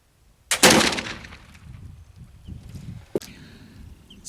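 A single loud black powder gunshot cracks at close range and rolls off into a long fading rumble, followed by a short sharp knock and low handling noise outdoors.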